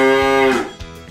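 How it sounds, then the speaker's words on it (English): A cow lowing in a long, loud, close moo with a rich droning tone that fades out, followed by brief quieter breathy sounds. "Cows."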